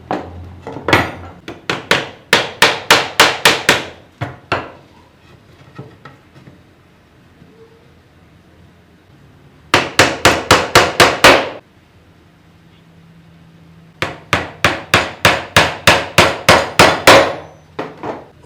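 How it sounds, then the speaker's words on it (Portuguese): Three bursts of rapid hammer blows driving nails into wood while building a dowel jig, each a quick run of sharp cracks separated by quiet pauses, loud and close with no speech. "Eu vou pregá-lo e você vai entender."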